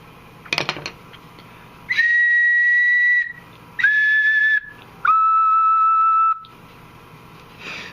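Steady breathy tones come from a homemade double ocarina whose B note is being tuned, three close sustained blows with the pitch drifting lower on the last as the instrument is adjusted, after a short clatter at the start.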